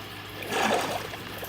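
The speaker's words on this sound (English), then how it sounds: "you see water leaking into the pool down here" Water trickling and splashing into a pool inside a Minecraft world, a soft rushing swell that rises in the middle and fades, fairly close and alone.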